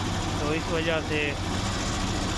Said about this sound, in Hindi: तो अभी ये इंजन की वाइब्रेशन आपको नज़र आ रही होगी, गाड़ी मिसिंग बहुत ज़्यादा कर रही है।